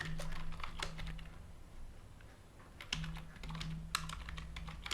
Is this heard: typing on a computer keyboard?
yes